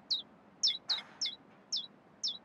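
Hungry baby birds chirping in the video game A New Beginning, six short high-pitched peeps spaced at irregular intervals, clear and close against a faint background hum.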